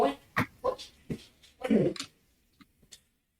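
A dog retches in a run of short, sharp heaving bursts mixed with whimpers, close by, then fades to a few faint clicks.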